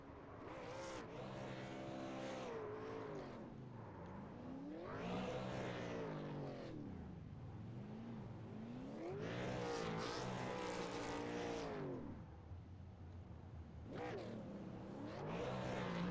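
Race cars racing at Charlotte Motor Speedway, engines rising and falling in repeated swells as cars roar past, with a constant loud background drone.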